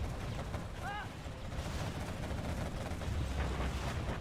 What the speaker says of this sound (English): Carpet and Arty Barrage deployed.